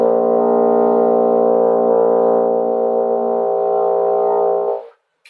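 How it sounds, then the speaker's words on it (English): A brass instrument sustains a single very low pedal B-flat, buzzy and rich in overtones, held steadily for nearly five seconds before stopping. "When I play pedal B flat,"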